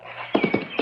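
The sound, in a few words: horse hooves clip-clopping as riders set off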